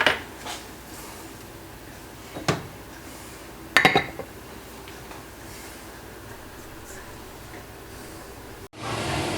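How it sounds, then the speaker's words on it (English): A cooking dish goes into an oven with a few clattering metal-and-ceramic knocks and scrapes, followed by a dull thud as the door shuts near the end, all close by and without talk. "let's get this in the oven"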